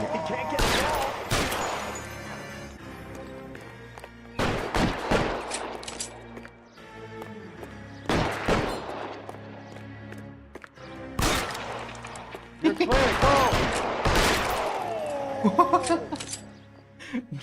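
Gunfire in L.A. Noire, several loud bursts of rapid shots in separate clusters with quieter gaps between, someone talking and laughing over parts of it.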